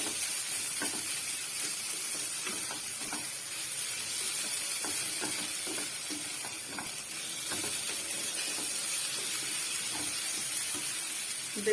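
Turmeric roasting in a pan with full cream milk gives a steady, loud sizzle throughout, with soft scraping and stirring clicks on top.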